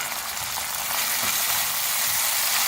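Onion, ginger and garlic paste fries with tomatoes in a pan for a tangy eggplant curry, a loud, constant sizzle close by with no talking.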